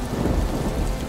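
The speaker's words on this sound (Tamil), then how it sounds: "எப்போ அவன் நிலத்துல விதைகளை விதைக்க ஆரம்பிச்சானோ அப்பவே பெரிய மழை ஆரம்பிச்சிருச்சு" Steady heavy rain pours down with a low thunder rumble rolling underneath, a continuous loud storm wash with no voices.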